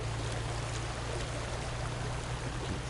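A small river flows in the Snowrunner video game, its steady rushing water heard alongside a low, constant truck engine drone.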